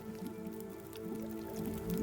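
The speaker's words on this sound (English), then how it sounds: "So I'm looking at this non-potable water. You can actually hear it boiling." Non-potable melted snow water bubbling as it boils over a fire in The Long Dark, a close, continuous burbling with soft wet pops and a low steady hum beneath.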